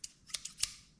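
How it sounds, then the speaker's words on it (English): Harbor Freight scissors handled close by, giving a few sharp metallic clicks and snips spaced across a second, with quiet gaps between them. "So you got these scissors. These are from Harbor Freight."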